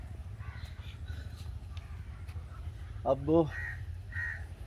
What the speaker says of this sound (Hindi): तो इसका नर कौवा जो है वो उनकी रक्षा करता है।